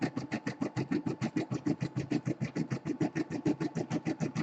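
An embroidery machine sews a tack-down stitch at stitch length 20 on an in-the-hoop quilted project. Fast, even mechanical pulses repeat steadily and close by, with no talking.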